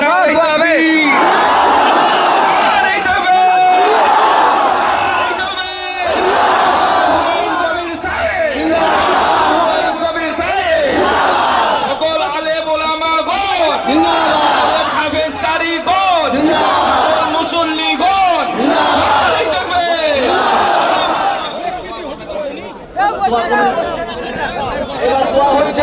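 Large crowd at a mosque foundation-laying gathering raising loud, repeated takbir shouts in rhythmic waves, a roaring mass of voices sustained across the whole stretch with a brief dip near the end.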